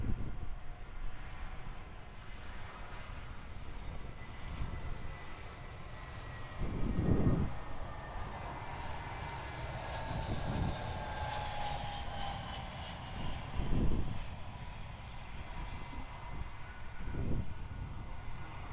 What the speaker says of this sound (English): So here is an Airbus A319, quite a rare newer movement for Perth, coming in from Broome.